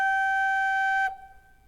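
Organ pipe from a Furniture mixture stop of four ranks, sounding G sharp 3, a steady bright held tone about one second long that stops cleanly and leaves a brief faint room decay.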